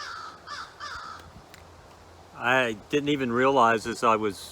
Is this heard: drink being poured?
no